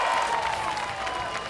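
Crowd applause rises for a BMX flatland rider finishing a run at the FISE World Montpellier 2015 qualifications, a steady wash of clapping from a large audience filling the whole moment.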